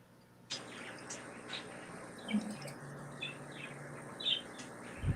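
A pet bird chirps in short, scattered calls over a steady background hum, with a faint liquid trickle and occasional voices nearby.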